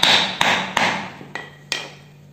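Five sharp hammer blows strike a hard-shelled zuriat fruit to crack it open, loud and close, evenly spaced with brief ringing decays between hits.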